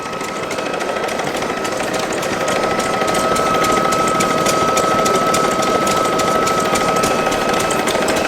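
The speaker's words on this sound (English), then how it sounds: "Look at that huge Gardner diesel engine running." A large Gardner diesel stationary engine runs at an engine show outside a commercial vehicle museum, a loud, steady close-up chug with a fast even beat and no pause.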